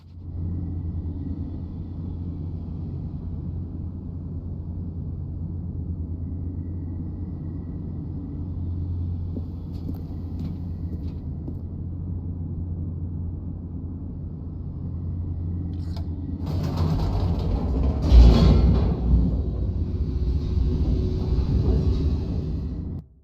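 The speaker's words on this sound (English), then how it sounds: "The elevator raced downward, plummeting towards an unknown fate." A descending elevator in The Stanley Parable gives off a steady low mechanical rumble that drones on and then swells into a louder, rougher rush of noise near the end.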